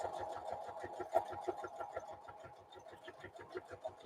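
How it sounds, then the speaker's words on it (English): A sewing machine stitches through a handmade collage journal, its needle thumping in a quick, steady rhythm close by, with faint background noise around it. "apparently forgot how to use my sewing machine"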